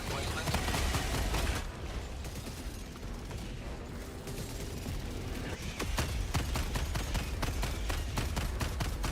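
Incendiary shotgun blasts and sentry gunfire in Helldivers 2 amid a bug fight, a dense stream of sharp repeated shots with a brief lull before the firing picks up again and grows heavier.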